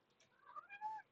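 A cat gives a short, fairly faint meow, a single rising-and-falling call with no talking over it.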